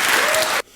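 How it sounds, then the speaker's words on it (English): Audience applause with Andrew Yang clapping, a dense burst of hand claps that fills the space and then cuts off abruptly. "Andrew Yang claps really nerdy there"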